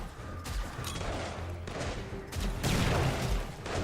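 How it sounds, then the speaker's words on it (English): Blast-heavy combat din from the survival game 7 Days To Die during a wasteland horde night, with a grenade going off amid ongoing gunfire; a broad, loud burst swells near the end over continuous rattling shots. "that was a nice grenade there"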